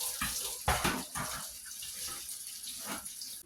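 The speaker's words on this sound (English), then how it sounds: "You drop some in there, pick them back up, and rinse them back off" Strawberries being rinsed in water in a clean kitchen sink, close splashing and running water with a couple of louder sloshes early on, then a steadier gentle trickle, no voices.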